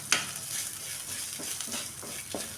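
Garlic and a sprig of curry leaves frying in a pan, a moderate crackling sizzle broken by a sharp clank at the start and several soft stirring scrapes, close and with no talking.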